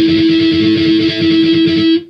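A guitar harmonic rung at the fifth fret for an intro, one steady bell-like note with a bright distorted edge, held for about two seconds before cutting off, played alone.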